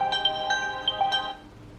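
Short electronic melody from a phone, controlled through an Honor Band 6, with a few bright tones chiming one after another at a moderate level and then stopping.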